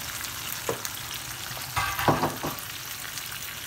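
Small dried ndakala fish frying in a hot pan, a steady close sizzle with occasional brief stirring scrapes and crackles, no voices.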